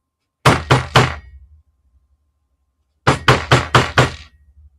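Two bursts of firm knocks on a restored front door of a warded house, first three quick raps, then after a pause five more in a steady rhythm, close and loud with no talking.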